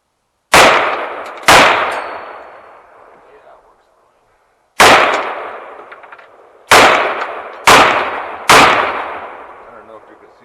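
AR pistol with a newly assembled upper fires six test rounds in uneven spacing, each a loud sharp blast with a long ringing decay, heard alone outdoors.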